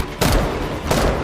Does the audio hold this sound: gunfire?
yes